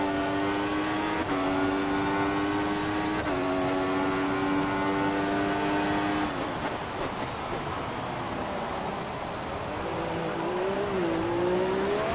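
A Formula 1 car engine in F1 2014 at Montreal, running in rich fuel mode on the back straight, holding a high steady whine that drops as the car shifts up through the gears, loud and close with no speech.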